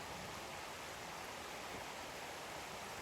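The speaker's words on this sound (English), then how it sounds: "Big river." A big river flowing along the Appalachian Trail, a steady broadband rushing wash with no breaks, even and continuous, moderately quiet and heard from nearby.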